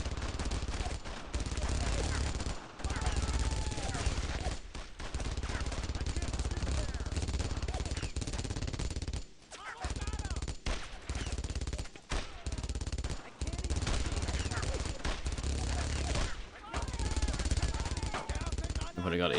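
Machine gun and rifle fire in the World War II shooter Brothers in Arms, dense and near-continuous bursts with brief gaps, mixed with shouted voices over the battle.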